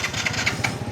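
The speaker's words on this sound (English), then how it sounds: "this bike just keeps stalling out" A motorbike engine in a Bali village sputters unevenly as it stalls, with close, irregular chugging pulses over a low rumble.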